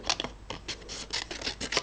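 Scissors snipping through paper in a series of quick, crisp cuts close by, an irregular rhythm of short bright strokes with no talking.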